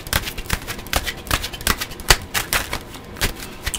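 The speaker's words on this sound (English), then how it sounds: "I'm going to cut the cards this time" Tarot cards being shuffled and cut for a reading, a steady run of crisp, close papery riffles and flicks repeating about twice a second, with one sharper snap midway and no talking.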